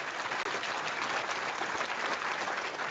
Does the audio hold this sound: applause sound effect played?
yes